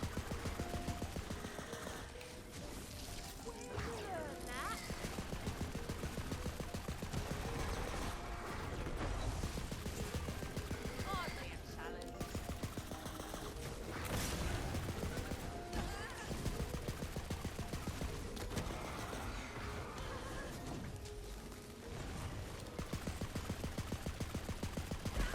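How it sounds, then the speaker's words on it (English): Game gunfire while shooting at dragons in Wonderlands, a dense, continuous clatter of weapon fire mixed with mechanical clicks and effects for the whole stretch, with voices talking over it. "We're shooting the dragons."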